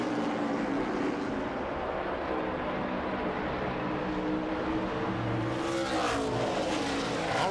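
Race cars in a 2003 truck race, the Trimspa Dream Body 250, drone steadily with a dense engine roar and tyre noise as they slide through a turn, with a brief passing whoosh near the end.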